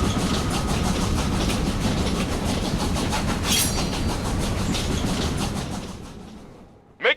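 A moving train rumbles steadily in the video game Killer is Dead, with a continuous loud roar and faint rhythmic clatter of the cars that fades toward the end before a brief sharp noise.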